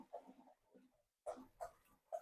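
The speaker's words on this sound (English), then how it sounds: "don't mind the dogs busting through the door" Dogs pushing through a kitchen door during cooking, with several short, close snuffling grunts and whimpers in quick bursts, a brief silence, then more.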